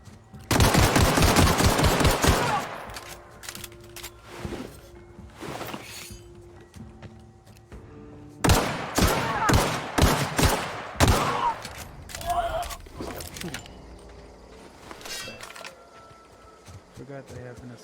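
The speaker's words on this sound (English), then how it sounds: "Forgot I have an assault rifle." Assault rifle fire in The Outer Worlds comes in loud, rapid bursts, one near the start and a longer run in the middle, with quieter scattered shots and clinks in between.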